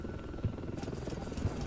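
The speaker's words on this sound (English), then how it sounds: "Moves forward with a bunch of helicopters" Helicopters in the Warno video game, a steady rotor drone with a low chopping pulse, heard continuously over a short stretch at moderate level.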